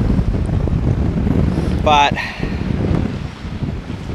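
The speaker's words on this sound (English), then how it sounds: "We've got wind, waves and everything else." Wind buffets the microphone and waves wash around a small fishing boat out on the water for bream, a steady loud rush throughout, with one brief spoken word.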